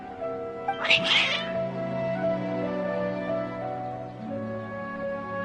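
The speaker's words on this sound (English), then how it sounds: "Your cats seem pretty worked up." Agitated cats meowing and caterwauling in a short loud burst, set over a sustained musical score in a narrative game scene, then trailing off into the background music.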